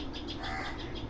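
A brief run of short, rhythmic sparrow chirps coaxes a fledgling to take flight, the calls repeating evenly, fairly close, with no voices.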